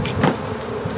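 Honey bees buzzing at a hive during spring expansion of the colonies, a dense, close, continuous drone filling the moment with no voices.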